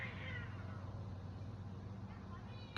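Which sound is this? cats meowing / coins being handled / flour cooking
cats meowing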